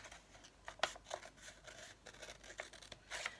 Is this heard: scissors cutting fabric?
yes